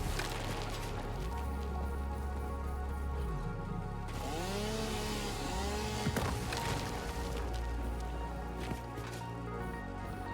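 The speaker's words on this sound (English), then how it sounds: "Already 106 of it gathered just with those 2 chainsaw hits." A chainsaw in a survival video game buzzes steadily while cutting and gathering mycelia, its engine drone continuous and loud, with a shift in pitch midway and a few faint rising chirps. No talking.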